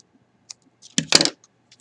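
Scissors snipping the corners of a paper gusset plate, a few short crisp cuts close by, with a quick burst of two snips near the end and quiet around them.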